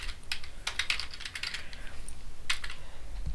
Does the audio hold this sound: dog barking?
no